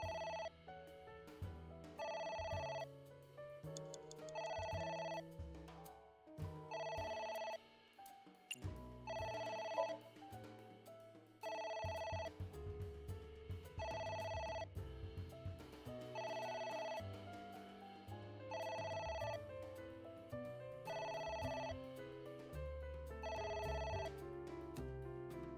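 A telephone rings repeatedly in a video game, AI: The Somnium Files, with a steady pattern of electronic ring bursts over background game music and no voices.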